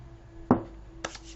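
A knife cuts through a bar of white soap in a quiet room, giving one firm chopping thud followed by a lighter second cut about half a second later.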